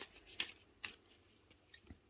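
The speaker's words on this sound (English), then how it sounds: "let me shuffle" Tarot cards are shuffled by hand in a few quick, quiet riffling bursts, with short pauses between them and a light tap near the end.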